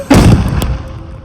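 A Sivakasi cylinder bomb firecracker bursts with one sharp, loud close blast, a second smaller crack right after, then a short fading rumble.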